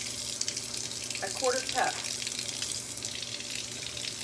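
Warm water runs steadily from a kitchen tap while biscuit dough is being prepared, a soft continuous hiss with someone speaking briefly over it.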